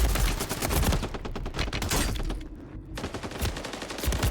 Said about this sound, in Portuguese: Como que eu erro esse tanto de tiro nesse cara?